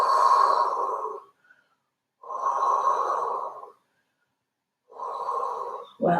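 Slow, deep breaths during a Pilates stretch, three long airy exhalations near and clear, each separated by a few seconds of silence.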